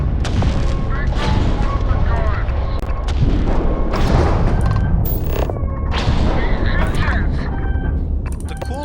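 EM weapons fire continuously in a spaceship-boarding video game, with heavy booming blasts overlapping in a dense, loud barrage and no gaps between shots.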